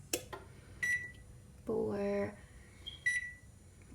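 A kitchen timer is set for baking an Irish coffee cheesecake, giving a few short, clear electronic beeps spaced apart, with a brief spoken word in the middle.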